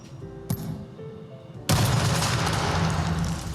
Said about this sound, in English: Now, similar to a flashbang, this is going to make a loud banging sound, but it's going to shoot out dozens of rubber pellets